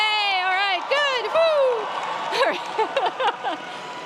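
Graduating design students at a university commencement cheer and whoop together, high excited voices and shouts rising in bursts over a crowd murmur for a few seconds.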